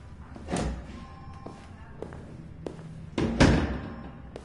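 A door slams shut with a solid thud close by, following an earlier softer knock or bump. Small taps and shuffling are heard in between, and there is no talking.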